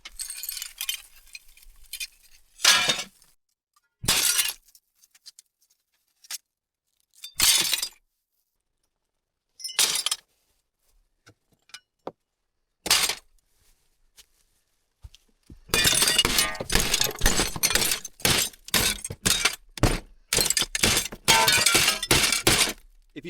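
Glass in a bin is smashed hard during the cleanup of a contaminated cabin, loosening a gasket. Sparse, separate crashes of breaking and clinking glass give way to a dense, rapid run of shattering blows.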